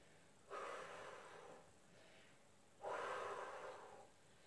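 Two long, breathy exhalations during a stretching exercise, close and soft, each a few seconds of airy rushing separated by quiet.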